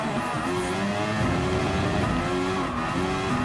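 A Mercedes AMG F1 race car in Gran Turismo Sport screams along at full throttle with a loud, close engine whine that climbs and shifts pitch, and tires squeal briefly along the way.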